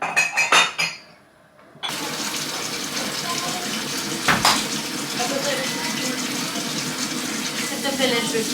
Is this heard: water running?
yes